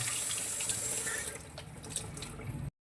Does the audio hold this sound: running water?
yes